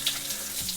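Shower water running in a Samburu, Kenya lodge: a brief, steady hiss of spraying water with a faint low rumble underneath.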